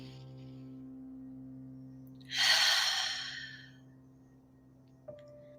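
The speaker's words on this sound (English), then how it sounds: "Take another deep breath in." A person takes a slow, deep breath in and lets out one long, breathy exhale during a guided relaxation exercise, heard close over a steady low electrical hum.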